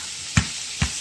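Boiled carrots hit a hot pan for carrot halwa, giving two short bursts of sizzle and stirring about half a second apart over a steady background hiss, with no talking.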